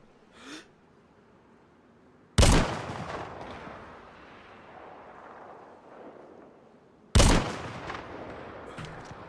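Two loud, sharp rifle shots in the survival video game DayZ, spaced several seconds apart, each with a long echoing tail over quiet surroundings, with a faint breath sound before the first.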